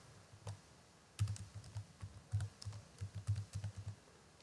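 Typing on a computer keyboard to enter a group name: close, crisp keystrokes in uneven clusters, some quick runs and short pauses, in a quiet room with no talking.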